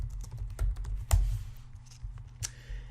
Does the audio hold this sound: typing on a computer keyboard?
yes